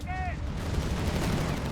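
Sherman whiz-bang rockets fire in Company of Heroes 3 amid a dense battle, a continuous rumbling barrage of booms and crackling blasts with a brief whistling tone at the start.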